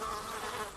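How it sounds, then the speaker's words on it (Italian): Flies buzz around food at a meal in India, a close, steady insect drone filling the short moment with no voices. "perché è pieno di mosche"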